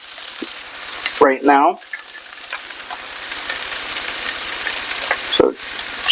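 Meat frying in a pan on a stove at medium-low heat, a steady sizzle running throughout with a couple of brief louder bursts, while a person speaks briefly over it.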